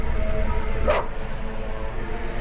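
Evil dogs in The Witcher give a single brief bark over loud rumbling ambient game sound, near and short.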